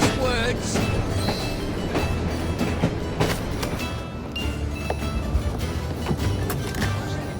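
Train in Assassin's Creed Syndicate: a steady, dense rumble of rolling wheels and carriage noise with faint rhythmic clatter, continuous and fairly loud throughout.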